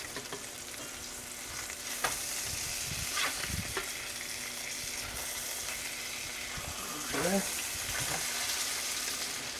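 Fish frying in butter in a pan, a steady close sizzle with occasional scrapes and stirring knocks, loud and continuous throughout.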